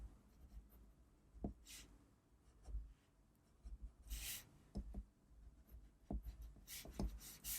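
A pencil sketching small scales on paper, close, soft scratchy strokes in short irregular bursts with brief pauses between them, quiet and without talk.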